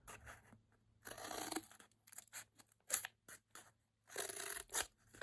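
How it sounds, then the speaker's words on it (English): Scissors snipping small slits in felt for a lynx mask, close crisp irregular cuts and crunchy rustles in short bursts with quiet gaps. "cut two little slits"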